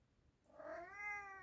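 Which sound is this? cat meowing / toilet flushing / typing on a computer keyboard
cat meowing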